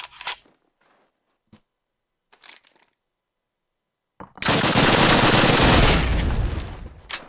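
A PPSh submachine gun fires in a Call of Duty match, starting as a loud, dense burst partway through that runs for about three seconds after sparse, faint clicks and pops.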